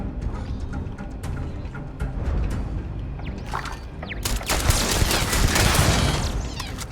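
Rapid bursts of automatic gunfire from turrets and a player's gun in the space game Starfield, dense, loud and sustained, with overlapping shots and mechanical clatter building toward a heavier volley near the end.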